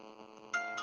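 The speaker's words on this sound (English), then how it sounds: "that's my phone" A phone ringtone chimes steadily in short electronic tones and gets louder and brighter partway through, sounding close with no talk over it.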